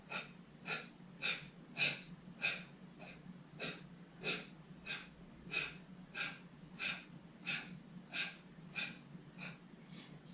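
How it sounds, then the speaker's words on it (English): Rapid, forceful yogic exhales of breath of fire, about a dozen sharp nasal puffs in a steady rhythm, close and fairly soft, with no talking over them. "you can go back to our breath of fire, and on the exhale, draw the navel in towards the spine"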